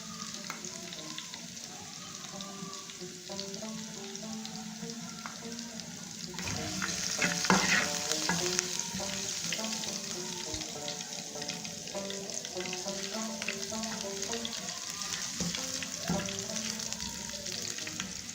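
Garlic tempering sizzling in hot oil for nalli nihari, a continuous crackling fry that swells louder partway through as it is stirred, no talking.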